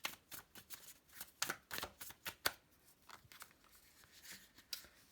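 A tarot card deck is shuffled in short bursts of papery riffling and slapping, about a dozen quick strokes at close range, fairly soft and with no talk over it.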